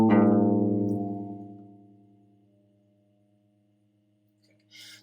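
A single guitar A string rings out and decays, its pitch sliding upward as the tuning peg is turned, leaving a faint sustained tone before a brief hiss at the end.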